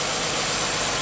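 A Nissan car engine idling unhappily on a low 10.5-volt supply, a close, loud, continuous drone with a slightly uneven low rumble.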